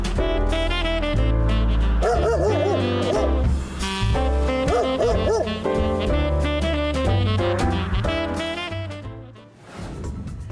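Dogs barking and yipping during a festive holiday piece, playful barks mixed over loud, continuous holiday music that dominates the sound before fading near the end.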